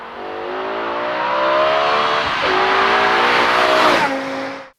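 BMW M5 E61 estate engine revving loud and close, a rising, harmonically rich tone that climbs, dips briefly, climbs again to a peak, then drops and cuts off, with no voices.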